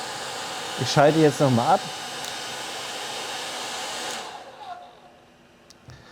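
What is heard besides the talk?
hair dryer running at highest setting on power station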